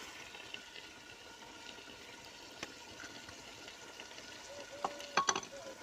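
Green garlic frying in a pan for Hyderabadi chicken dum biryani, a steady soft sizzle throughout with a few louder crackles and stirring clinks near the end.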